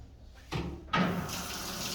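Water gushes from a tap in two short bursts, the second a steady splashing flow, rinsed through the holes of a dishwasher wash arm to flush out trapped debris.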